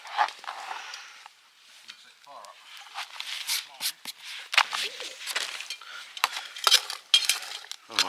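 Onions going into a cooking pan over an outdoor cook in an ancient woodland for Thai green curry, with clattering utensil and pan knocks, scraping and sizzle-like bursts at close range.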